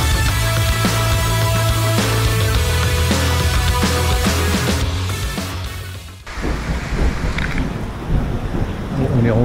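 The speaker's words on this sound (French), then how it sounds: "On est rentré pile poil juste avant l'orage." A thunderstorm in the Périgord Noir, with rumbling thunder and a steady wash of rain that rolls on throughout, while other continuous sound runs beneath it.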